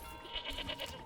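A goat in Manor Lords lets out a short, quavering bleat in a few quick pulses, soft and close against a low game ambience.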